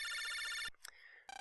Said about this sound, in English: It's your phone.